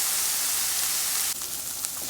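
Seasoning for a vegetarian Guyanese pumpkin and butternut squash dish fries in a pan with a steady, loud, hissing sizzle, broken near the end by a brief stir or clink.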